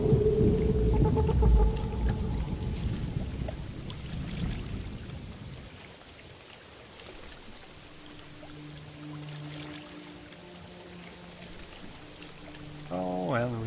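Rain and storm ambience from a thunderstorm in the game Morrowind, a loud rushing downpour for the first seconds that fades into a quieter background with music-like tones, and a brief voice near the end.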